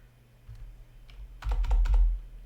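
Rapid clattering keystrokes on a computer keyboard come in a dense burst near the end, after a few isolated soft taps, close and clear with no talking.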